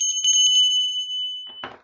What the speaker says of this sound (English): My bell, as always